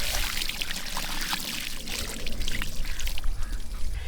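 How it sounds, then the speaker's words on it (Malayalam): Water poured steadily over a large hamour fish being washed, a continuous splashing pour that runs close and fairly loud without pause. "ഇനി നമ്മുടെ മീൻ കൂട്ടനെ നല്ലോണം കഴുകിയെടുക്കാം കേട്ടോ."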